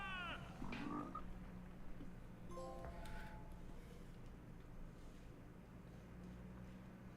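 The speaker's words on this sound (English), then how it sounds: "The frog, dude." A frog in a Star Wars video game gives a short burst of croaks and chirps near the start, over a quiet low game ambience that fades into near stillness afterward.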